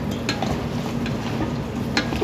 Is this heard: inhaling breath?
no